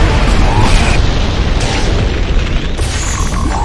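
Enemy missile explosions in the video game Liberation Maiden, a dense, continuous roar of blasts and rumble that stays loud and steady throughout.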